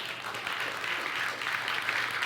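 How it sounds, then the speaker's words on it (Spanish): A church congregation applauding the Lord during a Spanish-language worship service, a dense, steady wash of many hands clapping at once, sustained and fairly loud with no individual claps standing out. "¿Cuánto le da un aplauso al Señor?"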